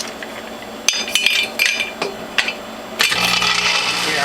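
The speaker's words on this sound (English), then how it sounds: "I'll feed in 3 or 4 ice cubes to cool down this feed tube" Three or four ice cubes dropping into a juicer's feed tube while making kohlrabi beet carrot juice, giving sharp, close clinks and knocks followed by a steady grinding rattle.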